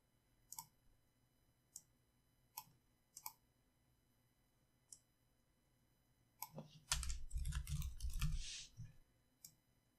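Typing on a computer keyboard while working with Linux commands: a few sparse, separate key clicks at first, then a quick dense burst of keystrokes toward the end, close and fairly quiet.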